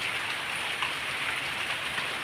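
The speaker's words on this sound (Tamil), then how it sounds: "எப்படி மழை பெய்யுது பாருங்கள், தெரியுதா?" Heavy rain pours steadily, a dense continuous hiss of drops hitting surfaces outdoors near coconut groves. It stays loud and even, with no voices.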